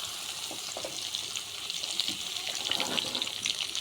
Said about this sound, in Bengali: মরিচটা আগে আমরা একটু ভাজে নেব।